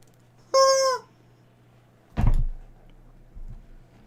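A chicken gives one short, loud, rising-and-falling squawk, followed a second later by a dull thump and a fainter knock, with a steady low hum underneath.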